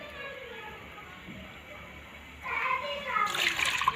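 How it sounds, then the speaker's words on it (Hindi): Milk poured into a pan of water for tea, a soft splashing pour that starts abruptly partway through and continues steadily and close after a quiet stretch of kitchen background. "और ये 2 कप दूध डाल रहा हूँ"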